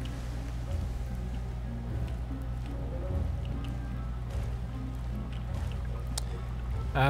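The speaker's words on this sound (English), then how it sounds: "working against the waves here" A boat pushing against waves in the game Don't Starve Shipwrecked, with a steady low watery rumble and scattered small splashes and drips, continuous and moderately loud, with no talking.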